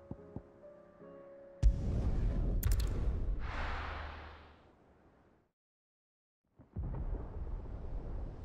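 A deep, loud rumbling roll of thunder in the video game Final Fantasy XVI: a sharp crack, then a sustained low roar that fades to silence, followed by another rumble building up.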